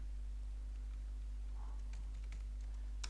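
Typing on a computer keyboard while entering data, a burst of quick uneven clicks near the end over a steady low electrical hum, close and fairly quiet with no talk.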